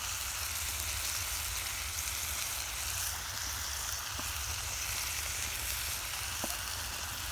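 Mushrooms and meat fry in a pan over a campfire in the woods at night, giving a steady, continuous sizzle with faint occasional crackles throughout.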